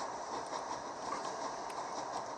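A train in The Raven Remastered runs at full speed with a steady, dense rumble and faint rhythmic clatter from the wheels, continuous and without talk.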